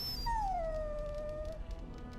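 A dog in Dragon Age: Origins lets out a long, drawn-out whimpering howl that slides downward in pitch and then trails off. It sounds close, and there is no talking over it.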